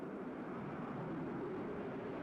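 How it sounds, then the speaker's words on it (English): An Su-25 jet flies around in the WARNO war game, heard as a continuous broad roar of jet engine noise with a steady, even level throughout. "Su-25 flying around."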